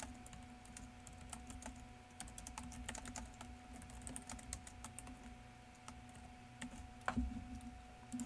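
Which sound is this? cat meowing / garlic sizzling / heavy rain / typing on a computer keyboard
typing on a computer keyboard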